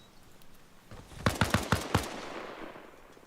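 A rapid burst of about six gunshots fired in a video game rings out at moderate distance, sharp cracks in quick succession with a lingering roll of echo afterward.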